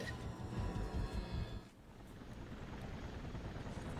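A helicopter's low rotor drone and engine rumble in the Infamous game, steady and fairly quiet, dipping briefly midway and then carrying on.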